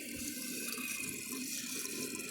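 A 1981 Briggs Conserver toilet flushes with a dish towel in the bowl, giving a steady, close rush of running water that holds at an even level for a couple of seconds.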